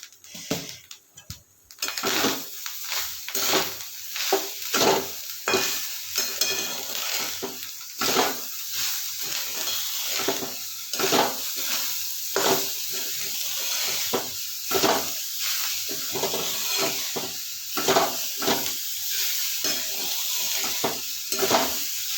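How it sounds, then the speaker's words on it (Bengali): Sugar melting in a pan for palm pitha (taler pitha), stirred steadily with repeated scraping strokes over a soft continuous sizzle and hiss, close and moderately loud, no voices. "চিনিগুলো একটু মজে আসছে, তারপর চিনিগুলো গলে গেছে।"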